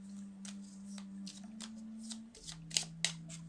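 Oracle cards being shuffled by hand during a tarot-style reading, a series of soft, quick riffling bursts over a low steady hum, close and fairly quiet, with a couple of sharper snaps near the end.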